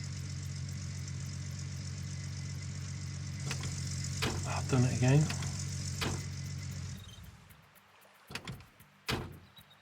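Vehicle engine idling in the Gold Rush video game, a steady mid-pitched hum that runs for about seven seconds before cutting off, with someone speaking over it and a couple of thuds afterward.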